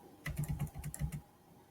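A quick burst of typing on a computer keyboard, a dozen or so close, soft key clicks in uneven rhythm before stopping.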